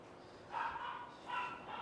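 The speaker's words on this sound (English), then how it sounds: "It's my dog." A pet dog gives two short, fairly faint barks about a second apart in a quiet indoor room.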